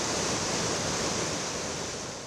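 Floodwater of the Piave river rushes past in a steady, loud, broad roar of churning water, with no breaks or voices.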